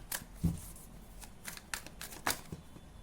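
Tarot cards shuffled by hand in a quiet room, a few soft riffling bursts and light slaps spread over three seconds, close and fairly faint, ending with a brief tap like a card dropping out.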